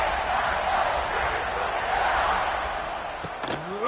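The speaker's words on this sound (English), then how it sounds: "this crowd is buzzing after that last score" Crowd at a football game before a kickoff, a loud continuous roar of many voices with a commentator talking over it and a few sharp knocks near the end.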